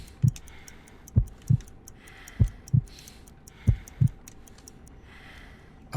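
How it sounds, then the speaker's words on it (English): Heartbeat in the Sherlock Holmes: Crimes & Punishments video game during a weak, slow pulse check, soft low thumps in paired lub-dub beats about a second apart, accompanied by faint ticking clicks. "I need to concentrate and count the heartbeats."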